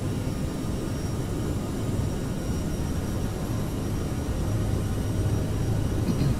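Steady, loud roar of Aerosoft CRJ jet engines at takeoff power in Microsoft Flight Simulator, a continuous broadband rumble that holds level throughout, with no speech.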